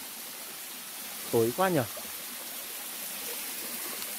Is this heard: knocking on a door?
no